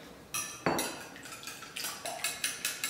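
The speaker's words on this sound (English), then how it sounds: "So we'll beat the eggs." A fork beats eggs in a bowl for banana nut bread, tapping out quick, regular metallic clinks against the dish, close and fairly loud.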